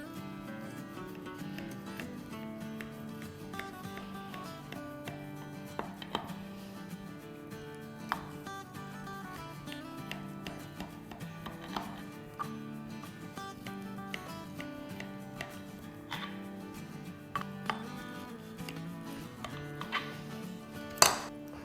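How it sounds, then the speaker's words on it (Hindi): A knife cutting motichoor barfi into pieces, with repeated sharp taps of the blade against the board or tray at irregular intervals over a steady low background hum, close up, with no talk. "तो चले अब मैं काटती हूँ और डिश आउट करती हूँ। तो इसकी पीसेस कर लेते हैं।"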